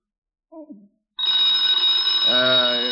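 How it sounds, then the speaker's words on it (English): A telephone rings in a detective radio drama: a voice speaks briefly, then a loud, steady electric bell rings continuously until the end, with a voice beginning to speak over it. "Get the phone, Walt."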